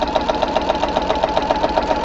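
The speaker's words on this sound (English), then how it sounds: "I'm going to stitch down this line" A sewing machine fitted with a walking foot runs a steady straight stitch, its needle mechanism giving a fast, even, rhythmic hum and tick that carries close and loud throughout with no pauses.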